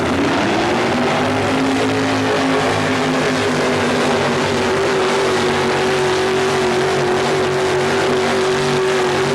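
Four-wheel drive class race truck engine at a 1987 TNT event in Montgomery, roaring loud and sustained with a high, gradually climbing engine note over a noisy crowd-filled arena background.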